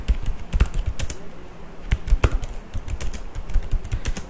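Java code being typed on a computer keyboard: a steady stream of crisp, close key clicks with small pauses and a few heavier keystrokes, no voices.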